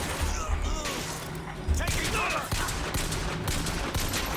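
Rapid bursts of automatic gunfire from a possessed sentry turret in Bioshock Infinite, with a steady rattle of shots, crashes and impacts amid chaotic combat noise throughout.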